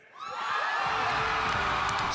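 A large crowd in Hall H at San Diego Comic-Con swells into loud, sustained screaming and cheering for Harrison Ford, rising within a quarter second and holding as a dense, roaring wall of voices.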